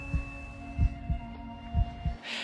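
Steady human heartbeat, each beat a soft low double thump, repeating at a regular resting pace over a faint constant hum.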